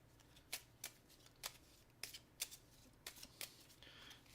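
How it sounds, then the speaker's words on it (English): Game cards from a solo tabletop robot game are shuffled in quiet, close riffles, about eight soft crisp bursts in quick irregular succession with no talk. "We'll shuffle these back in."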